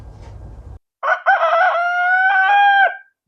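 A backyard rooster crows once, loud and close, a long drawn-out call after a brief quiet pause, with faint rustling just before it.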